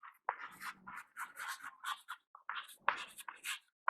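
Chalk or marker strokes writing out an equation for a virtual displacement lesson, close and steady, a quick series of short scratchy strokes separated by brief pauses, with no talking over it.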